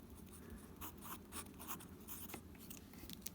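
Pen or marker scratching across paper while writing out a vertex formula, a quiet run of short scribbling strokes close up, with no talking.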